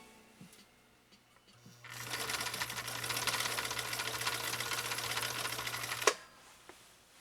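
A 1960 Viking Husqvarna CL-21A sewing machine stitches a zigzag, starting after a quiet pause and whirring with a steady rapid rattle for about four seconds before stopping with a clunk.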